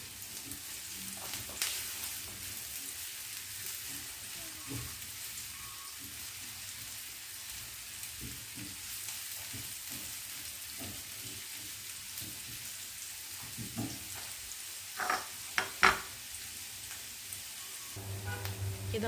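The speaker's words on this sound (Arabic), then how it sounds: "انا دلوقتي حطيت معلقتين زيت كده في الطاسه، ونزلت بالبصله بتاعتي" Chopped onion softening in two spoonfuls of oil in a frying pan, a steady soft sizzle running throughout with occasional stirring scrapes and a few louder clanks near the end.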